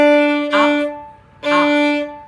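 Bowed string instrument sounding its open D string with one down bow and one up bow, two loud, even sustained strokes separated by a short gap.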